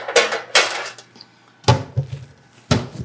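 Metal clatters as a cookie sheet is grabbed for the oven in a home kitchen: four sharp, ringing bangs and scrapes spaced over a few seconds, close and loud, with no talking.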